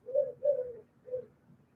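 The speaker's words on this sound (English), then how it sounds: "And the doves are going crazy." Doves cooing in three soft, low hooting calls, two close together and a third after a short pause, moderately near with a faint background hum.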